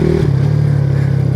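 A Kawasaki Z125 Pro motorcycle fitted with an O2 eliminator runs loud and close during a ride, its steady engine drone dropping in pitch as it eases off and settles into a constant hum.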